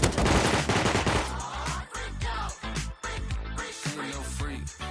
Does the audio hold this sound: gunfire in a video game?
yes